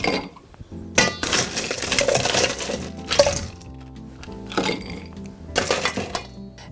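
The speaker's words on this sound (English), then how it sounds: "all we're going to do is add some ice" Ice cubes dropped into a mixing glass for a lemon meringue pie dessert cocktail, several bright clinking bursts and rattles in quick clusters, close and loud, with no talking.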